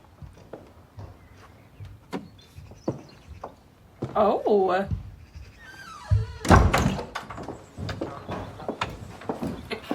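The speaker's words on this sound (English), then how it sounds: "Do you want to close the door?" A door is pushed shut with a solid thunk among softer knocks and bumps, while voices talk nearby.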